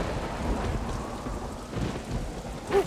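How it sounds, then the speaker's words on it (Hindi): Heavy rain pours steadily in a fierce storm, a dense, loud wash of noise with low rumbling underneath and no voices. "पहले ये बारिश के साथ इतनी भयानक आंधी हो रही है"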